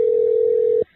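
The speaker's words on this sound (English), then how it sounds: "Oh, it's ringing. It's ringing." Steady single-pitched telephone ring tone, loud and close, holding for most of a second before cutting off cleanly into near silence.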